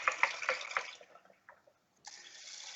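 Rice being rinsed in water, with splashy swishing and a few dripping splashes, then a short pause before steady running water resumes, close and moderately loud.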